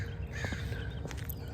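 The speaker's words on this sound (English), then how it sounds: "there's nothing like the early morning crows" Early morning crows give a few short caws at a distance, faint above a low steady background hum, with no one speaking.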